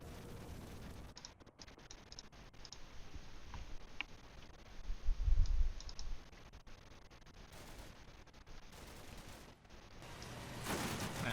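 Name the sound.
gunfire from Syrian infantry in a video game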